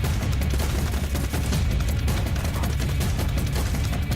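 Dense, continuous video-game gunfire in a shooter trailer, with rapid overlapping shots and bursts filling the whole stretch, loud and close, with no talk over it.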